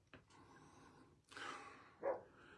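A dog on a porch gives two faint, distant barks about a second apart against quiet background noise.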